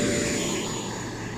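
An E-flite Viper RC jet comes in to land with a loud, steady ducted-fan whine and rushing roar that holds close and constant through the brief pass.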